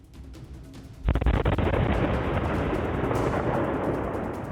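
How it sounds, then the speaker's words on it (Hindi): A sudden loud explosion in Nowgam, Kashmir bursts out, followed by a sustained roaring rumble and crackle that continues at high volume. "कश्मीर के नौगाम में हुए धमाके का ये सबसे नया वीडियो है"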